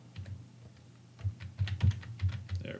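Keys clatter on a computer keyboard in short, uneven bursts of close, crisp taps with brief pauses, recorded alone in a quiet room.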